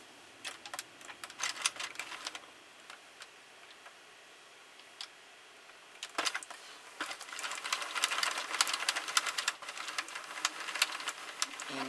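A Sentro knitting machine cranked with Bernat Forever Fleece yarn gives off irregular light clicks and ticks, sparse at first, then a brief pause, then denser rapid clicking, quiet and close.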